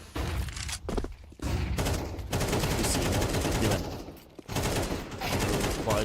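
Pistol gunfire in a competitive first-person shooter match, rapid rattling bursts of shots with short gaps between exchanges, loud and continuous through most of the stretch.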